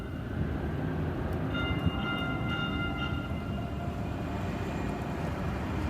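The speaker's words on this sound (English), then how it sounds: "I'll wait till the train goes by" A passing train rumbles steadily nearby, a dense low-frequency roar that holds for the whole stretch, with faint high tonal squeals from the wheels or cars running through the middle.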